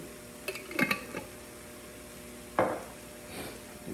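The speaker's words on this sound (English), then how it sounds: "And give that a good stir." A spoon stirring garlic, minced peppers and onions in a pan, with a few soft scrapes and clinks against the pan over a low steady background, quiet and close.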